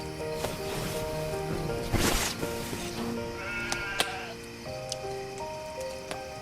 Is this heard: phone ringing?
no